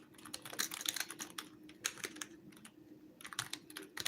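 Typing on a computer keyboard comes in quick, irregular bursts of close, crisp key clicks separated by short pauses, with no voices.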